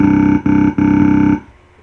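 A massive deep-throat wavetable synth patch pitched down 12 semitones, built with extra oscillators for a dubstep scream, drones loud in three sustained bursts separated by short gaps before cutting off and fading.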